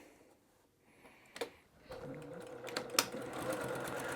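A sewing machine stitches pieced patchwork cotton fabric with a quarter-inch seam, starting after a quiet moment and settling into a steady, close, rapid mechanical whir and clatter, with a few small knocks and handling sounds.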